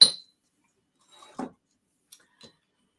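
A pressed glass item is handled, giving a few sparse, light clinks spread out with short silences between them. The sound is close and quiet, with no talking.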